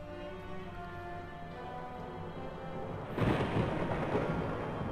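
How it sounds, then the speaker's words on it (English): Ominous thunder in the video game Shenmue rolls in as a low, broad rumble that swells partway through over a sustained tonal musical backdrop. "As if that ominous thunder didn't say it enough"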